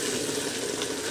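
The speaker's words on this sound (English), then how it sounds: "This is still starting to bubble again back to temperature." A pot of tomato sauce with onions crackles in a steady, dense sizzle of frying and bubbling, close and continuous with no talk.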